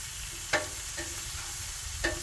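Cheese steak sizzling on a Blackstone griddle, a steady broadband frying hiss with a few sharp scraping clinks from a spatula stirring the meat.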